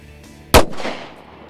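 A single close, loud gunshot fired at a meat target outdoors, a sharp crack with a booming echo that fades over about half a second, no talk.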